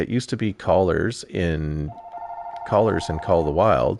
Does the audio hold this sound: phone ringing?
yes